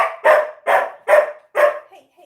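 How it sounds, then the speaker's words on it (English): Ember, a dog, barks loudly and close four times at a steady rhythm. The sharp barks trail off into a faint whimper at the end. "I think my dog's a little too loud"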